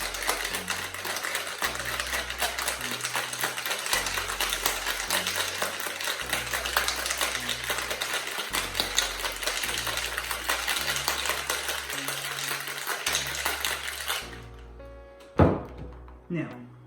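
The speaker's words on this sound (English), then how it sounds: "this is a drink that actually gets shaken on ice" Ice rattles steadily inside a cocktail shaker as a margarita is shaken vigorously for about fourteen seconds in a fast, even rhythm. The shaking stops abruptly, followed by a couple of quieter knocks.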